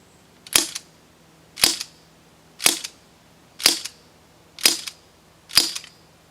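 Six sharp, evenly spaced cracks from a Tokyo Marui MK23 airsoft gas pistol fired without its suppressor, each a crisp snap with a short hiss of gas, clear and close with quiet between shots.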